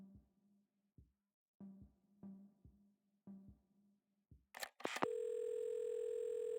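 A telephone in the video game Assemble With Care is handled with a few clicks and clunks of the receiver, then a steady, loud dial tone hums continuously.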